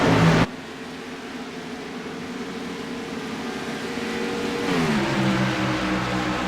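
Race car engines roaring on a motorsports track during a caution, a steady loud drone with harmonic pitch that shifts upward near the end as the car changes speed, no voices.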